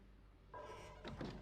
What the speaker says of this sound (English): We need to shut this door.